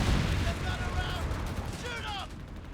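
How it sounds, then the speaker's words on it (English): Whiz Bang rocket artillery in Company of Heroes 3 fires in a dense, rumbling barrage of blasts and booms amid other battle noise, with people talking loudly over it. "There was so many rockets spewing out."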